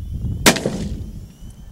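A single sharp rifle shot cracks outdoors at a prairie dog, followed by a brief rolling echo that fades over about half a second against quiet wind.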